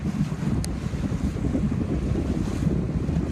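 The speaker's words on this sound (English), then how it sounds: "There's more wind over here too" Steady wind roars and buffets the microphone on open water at a sailing race course, a continuous low rushing with waves and boat noise beneath, loud and unbroken with no voices.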